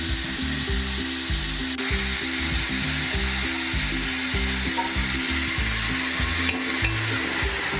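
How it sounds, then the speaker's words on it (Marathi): Colocasia leaves land in a hot tempering of burnt garlic and sizzle loudly and steadily, a close, continuous frying hiss with no talking. "आता आपण त्यामध्ये अळू घालून घेऊया।"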